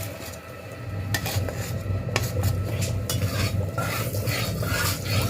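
Cumin seeds frying in hot mustard oil in a kadai, a steady close sizzle with scattered clinks and scrapes of a stirring spoon against the pan, no talking.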